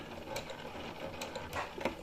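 Home sewing machine stitching a curved pocket seam slowly, step by step, as the fabric is turned: soft, uneven mechanical ticking and whirring in short bursts, close and fairly quiet.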